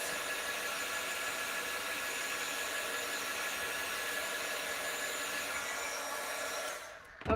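A dryer blows steadily and close by to spot dry a handmade birthday card, a constant whooshing hum that holds for several seconds before cutting off abruptly at the end.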